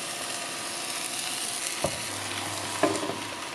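Bánh xèo batter, mixed without coconut water, sizzles steadily in a hot pan as the pan is lifted and swirled, with two brief metallic clinks partway through and no talking.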